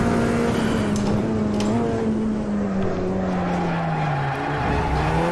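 A BMW X5 drifting, its engine droning loudly and steadily with a continuous tire squeal running throughout, close and without voices.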